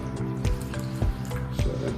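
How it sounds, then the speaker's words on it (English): Water poured into a pan to make a water bath for baking a flourless chocolate torte, a continuous splashing and trickling stream close by with a few heavier sloshes, and no one speaking over it. "And we're gonna pour that water just like this."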